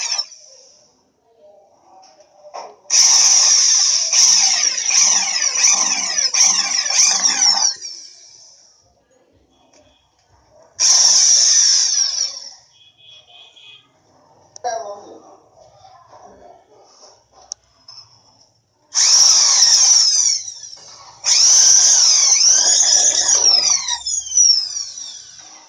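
Power drill enlarging a hole with an 8 mm bit during electric geyser installation, several loud whining bursts of a few seconds each separated by quiet pauses, close up.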